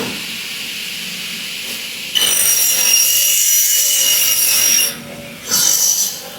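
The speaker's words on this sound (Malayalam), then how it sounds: "ഇത് ഡബിൾ ഹെഡ് കട്ടിംഗ് മെഷീനാണ്." A double-head cutting machine cuts a UPVC window profile at 45 degrees, making a loud, close, steady high-pitched whining rasp with hiss. It starts abruptly, drops briefly near the end, then surges again, with no talking.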